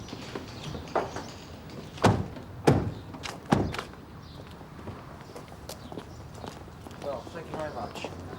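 Knocking on a neighbour's front door in a British police drama from 1994: three firm, evenly spaced knocks ring out near and loud, with faint room tone and scuffing around them.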